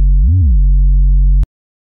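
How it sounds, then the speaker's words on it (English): A deep, pure synthesized sine sub bass, made in Serum, holds a low A0 note for just over a second, with a quick pitch wobble near the start, then cuts off abruptly. "the first patch that we're going to be creating is the sub, which sounds like this."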